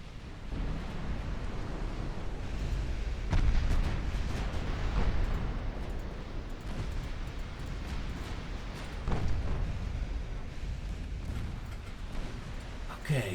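Warship guns fire in the naval battle game Ultimate Admiral: Dreadnoughts, with deep booming blasts rising out of a constant rumble of sea and engine noise that lasts throughout.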